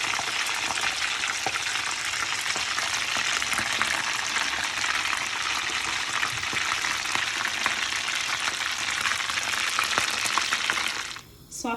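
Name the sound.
potato cutlets frying in hot oil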